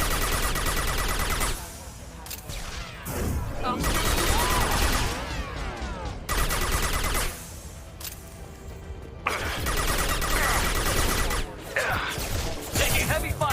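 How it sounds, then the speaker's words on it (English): Dense gunfire from a firefight in the video game Mass Effect 2, heavy and sustained with crashing impacts and bursts that surge and drop, loud and close throughout. "Taking heavy fire."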